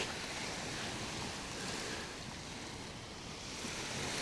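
A steady, soft wash of sea waves breaking on a Maldives beach at dusk, a continuous even surf hiss with faint wind and no voices.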